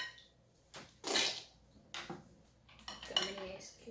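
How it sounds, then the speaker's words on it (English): Leftover ice cubes being scooped out of thickening jello with a utensil, with a few soft clinks and scrapes of spoon against a bowl at moderate distance and a quiet background in between. "We're now going to pull the leftover ice cubes out."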